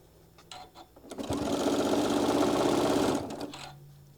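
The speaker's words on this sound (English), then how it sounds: "I'm just going to sew right to the edge of it" A sewing machine stitches a fabric table runner right to the edge, its needle hammering in a fast, even run of close, loud clatter for about two seconds, with brief quiet handling sounds before and after.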